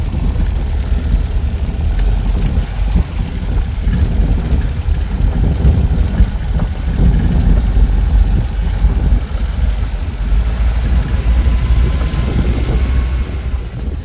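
An old yellow car's engine runs steadily as the car rolls down a driveway, a continuous low rumble that holds at a fairly even loudness throughout with no voices.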